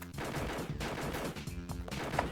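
Rapid gunfire in the arcade light-gun shooter Confidential Mission, a dense, steady burst of repeated shots with game music and effects running underneath, no talking.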